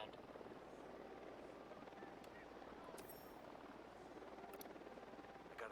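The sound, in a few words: armed helicopter approaching in Batman video game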